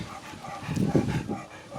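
A 17-year-old deaf dog gives a couple of soft, low barks and yips close by, fairly muffled, with no one speaking.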